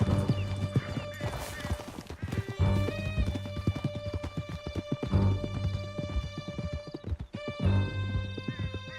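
A horse gallops hard in Red Dead Redemption 2, rapid hoofbeats pounding close and steady over a tense musical score, with a whinny and brief voices mixed in.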